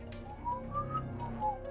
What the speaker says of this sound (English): you hear a piercing whistle echo through the cave